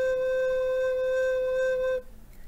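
A recorder sounds a single low C note, steady and pure, held for about two seconds before stopping abruptly, close and clear.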